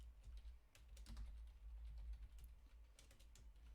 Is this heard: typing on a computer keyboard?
yes